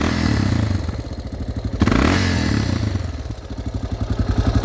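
A motorcycle engine fitted with an aftermarket Amazon carburetor catches after a clattering start and settles into a loud, close, lumpy idle with rhythmic exhaust pulses.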